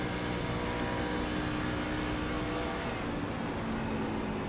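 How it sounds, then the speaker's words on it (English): A race truck engine in an iRacing Truck Series race at Charlotte, a dense constant onboard roar with a slight shift in tone partway through as the driver downshifts, loud and with no voices. "You just heard him downshift."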